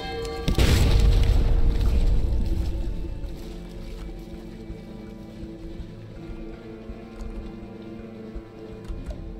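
Ship's guns firing in the video game Sunless Sea, one loud booming blast that rolls off slowly into a low rumble, then quiet ambient game sound with faint clicks.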